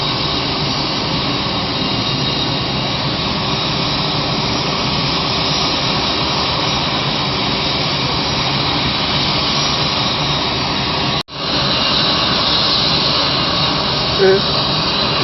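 An airplane's jet engine roars steadily and loudly throughout, a broad continuous drone that briefly cuts out once near the end, with a voice present under the noise.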